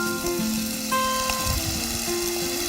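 Seasoning poured into stir-fried cockles in a hot pan, a soft steady sizzle and crackle of frying running evenly and close throughout, with faint background hum and no talking.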